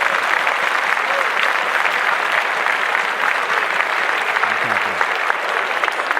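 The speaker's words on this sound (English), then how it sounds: "Clap it up for those fellas" A podcast studio audience applauds continuously, a dense, loud wash of clapping that holds steady for several seconds.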